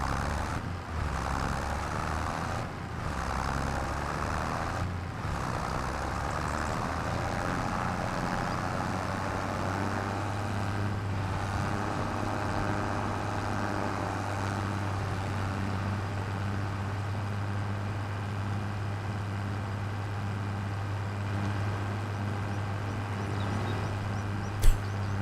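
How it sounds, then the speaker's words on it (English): A tractor engine drones steadily in Farming Simulator 25 on the Riverbend Springs map, a constant low, heavy hum that holds at an even level throughout with no talking. "Tractor's not winning any speed races, is it?"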